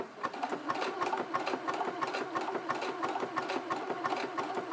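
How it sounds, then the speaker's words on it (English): A sewing machine runs steadily, stitching a wide zigzag for a buttonhole with a fast, even mechanical chatter and a humming motor, close up and alone. "The machine will do a wide zigzag and then carry on down with a small zigzag"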